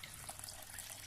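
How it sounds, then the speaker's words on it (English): A small garden waterfall splashes and trickles as it circulates water around a fish pond, a steady close-up burble with no voices. "we now have a nice area either side of this little waterfall, which serves to circulate the water"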